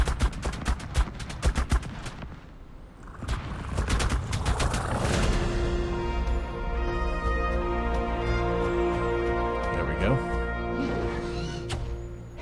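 A Velonasaur in the ARK video game fires like a gun. Rapid bursts of shots open the clip, then a dense roaring barrage and sustained ringing tones follow.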